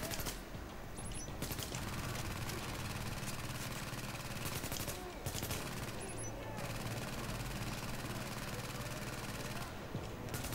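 Dense, continuous automatic gunfire from The Division video game, loud sustained bursts with brief gaps, and a voice talking faintly underneath.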